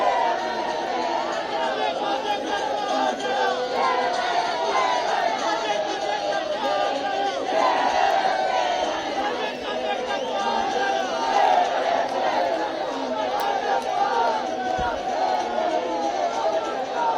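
A large crowd at Amit Shah's road show in Ajmer, Rajasthan, during the 2023 election campaign: a dense, continuous babble of many voices, loud and unbroken throughout, with no single voice standing out.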